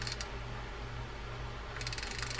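A repaired Penn Peer 209 fishing reel spins with a quiet, steady mechanical whir and faint ticking, brief clicks at the start and near the end, heard close up and alone.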